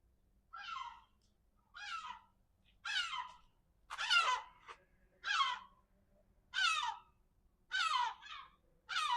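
A crow-like bird calls eight times in a steady series of harsh, raspy caws, each about half a second long and evenly spaced. The calls are fairly close and stand out clearly over a quiet background, with no talking.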